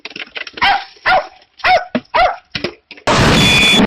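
The Arbitrator's dog companion in the video game Darktide barks several times in a row, sharp close yaps and growling barks separated by short gaps, ending in a sudden burst of loud noise like an explosion.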